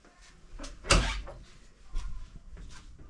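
A dungeon door in a haunted orphanage story setting being opened, one close creaking, thudding sweep near the start followed by a few softer knocks and scrapes, with no talk.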